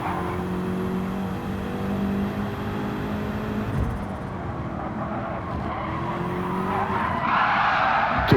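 In a racing game, a race car takes too much curb and spins out, tires squealing and skidding over a droning engine before revving back up, ending with a sharp knock.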